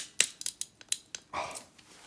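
Scissors bite through a thick sheet of fused glass paper in a series of sharp, close crunching snips, several quick cuts followed by a longer grinding cut, with no talking.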